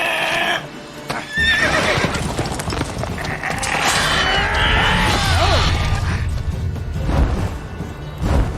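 A horse neighs in The Witcher 3, a drawn-out whinny rising over a busy game mix of hoof clatter, crashes and mechanical noise that runs loud and continuous throughout.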